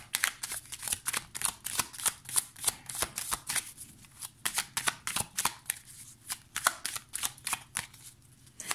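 Morgan Greer tarot cards are shuffled by hand in a quick, steady run of crisp riffling slaps and flutters, close and clear with no talk.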